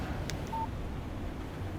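A short electronic phone alert in the Alan Wake video game, a single clean tone lasting a fraction of a second over a faint, steady background hum.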